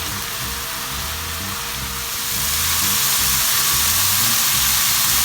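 Garlic sizzling in a hot pan for fried Vietnamese egg noodles, a steady broadband crackle that swells louder partway through and holds close and continuous with no voices.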